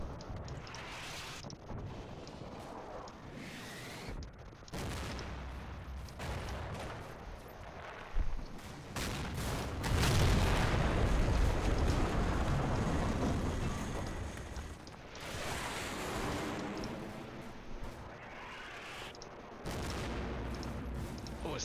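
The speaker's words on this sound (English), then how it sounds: "Is that another bomb? Yes, it is." Heavy explosions and battlefield gunfire from a war video game set in Syria, dense and continuous, with a loud, booming blast surge in the middle and repeated fusillade-like bursts throughout, speech faint or absent.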